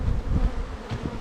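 Honey bees buzzing around a hive on a hot summer day, a close, steady low drone with swelling passes of individual bees, brief and without voices.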